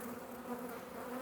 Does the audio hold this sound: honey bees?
yes